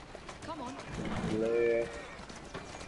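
A horse gallops while pulling a chariot in Assassin's Creed Syndicate, its quick hoofbeats running steadily beneath a talking voice that swells briefly midway.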